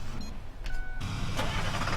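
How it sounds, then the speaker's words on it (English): A Ford F350 Super Duty Hydrobed pickup truck in Farming Simulator 15 on an Oklahoma farm map gives a steady, close engine rumble with a brief rise partway through, heard alone without talk. "This is the Ford F350 Super Duty Hydrobed."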